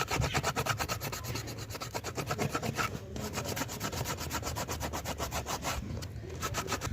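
Bike inner tube rubbed near the valve before patching, a steady rapid scraping rasp with even back-and-forth strokes, close and continuous throughout.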